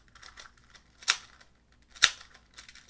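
Magnetic switches give two sharp, distinct clicks about a second apart, close and crisp against a quiet background with faint softer taps around them.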